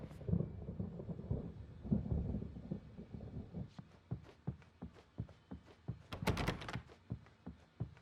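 A thunderstorm in the video game Alan Wake Remastered, set downtown: low rolling thunder at first, then a run of sharp thuds and knocks, with a loud crack of noise near the end.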